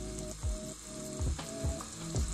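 Chicken sizzling in a pan with onions, tomatoes and capsicum, a close, steady crackling fry with a few soft stirring scrapes recurring through it.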